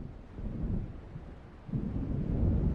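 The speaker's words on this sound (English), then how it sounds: "It seems there's a storm coming." Thunder from an approaching storm in the video game Alan Wake: a low, continuous rumble that swells again near the end, heard alone.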